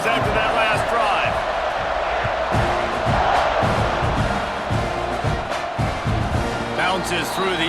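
A stadium crowd roars in the EA Sports College Football 26 video game, a dense continuous cheer with rhythmic thumps underneath, while a play-by-play announcer talks over it.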